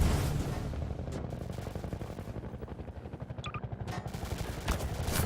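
Enemy gunfire in a video game, a rapid, sustained automatic burst rattling throughout at a loud, even level, with a few sharper cracks and clinks near the end.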